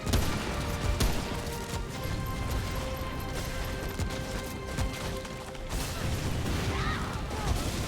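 Rapid gunfire in the co-op shooter Remnant: From the Ashes as a player fires at an enemy, dense crackling bursts mixed with mechanical clanks and impacts, loud and continuous with no voices.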